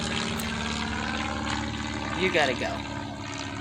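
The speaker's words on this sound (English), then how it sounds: "Hey, airplane." An airplane drones overhead above a backyard vegetable garden, a steady distant engine rumble that swells slightly, while someone speaks briefly.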